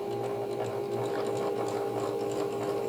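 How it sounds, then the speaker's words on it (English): A sewing machine runs steadily for three seconds, back stitching at the start of a seam on a small fabric Christmas ornament, with an even, continuous mechanical whir and no voices. "You'll want to back stitch at the beginning and the end because you're leaving that opening to turn."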